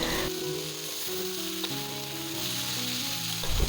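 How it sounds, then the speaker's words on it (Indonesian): Stir-fry with oyster sauce being stirred in a hot pan: steady close sizzling and frying hiss throughout, with faint scraping of the stirring and no voices. "Kemudian kita aduk-aduk hingga semuanya tercampur merata."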